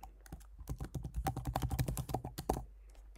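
A password being typed on a computer keyboard: a quick, close burst of irregular key clicks lasting a few seconds, then stopping, with no voices.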